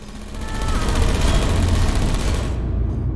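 Turrets in the video game Portal Reloaded firing a rapid, dense burst of crackling shots that builds quickly, holds loud, and then cuts off near the end.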